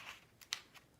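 Scissors snipping cardstock triangles, a few quick, crisp cuts close by, with one sharper snip in the middle of the short run.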